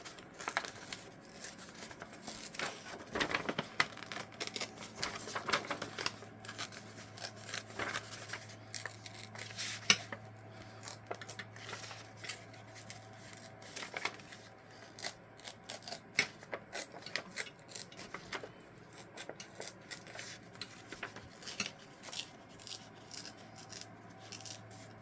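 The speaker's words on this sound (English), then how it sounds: "Let's see how small we can tear this without losing any of the image." Paper printed with an image torn by hand into small pieces, producing a long run of close, quiet ripping and rustling bursts at an uneven rhythm, with no talking.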